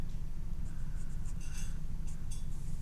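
A pen or pencil marks a measurement on grid paper with short scratchy strokes, close and quiet over a low background hum.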